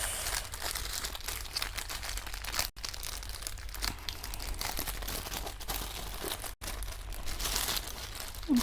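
A parcel being slowly opened at close range, plastic and paper packaging crinkling and crunching almost without pause, with occasional tearing and two brief gaps.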